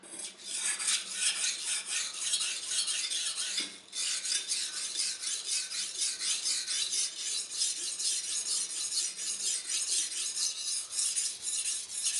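Chef's knife being sharpened at the tip on a stone, a steady continuous rasping scrape with brisk repeated strokes and one brief pause partway through, close and fairly loud with no talking.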